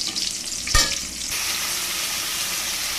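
Sliced pointed gourd (potol) frying in oil in a pan makes a steady, close sizzle, broken once by a brief clatter of stirring.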